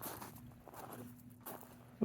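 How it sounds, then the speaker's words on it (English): A few crunching steps on dry desert ground in Pancho Villa State Park, New Mexico, soft and close, ending in a slightly louder scuff. "You hear those footsteps?"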